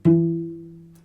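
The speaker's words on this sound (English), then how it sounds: "And I want you to try to pluck this string" A cello's D string is plucked once, a warm, resonant low note that rings and slowly fades over about a second, alone and close.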